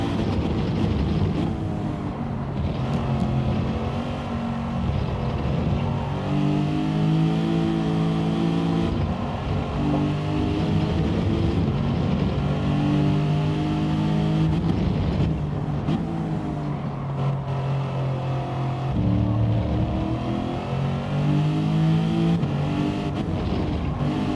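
A Lexus race car in Gran Turismo 7 at Spa-Francorchamps screams at the top of its revs with the valves floating, a loud sustained engine wail that wavers and stutters through gear changes, with other engines faintly behind.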